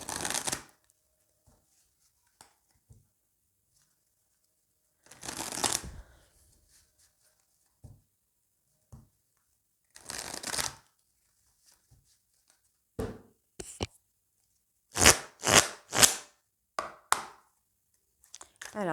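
Tarot cards shuffled in several short riffling bursts separated by quiet gaps, closing with a quick run of distinct snaps and taps, close and clear with no talking.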